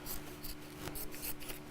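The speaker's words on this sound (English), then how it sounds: "So let me just chop off that fabric that I've just gathered." Blunt fabric scissors snip through gathered fabric in several quick, rasping cuts, close up and moderately quiet against a faint steady hum.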